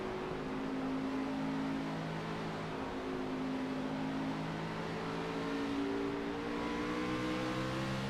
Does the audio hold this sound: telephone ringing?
no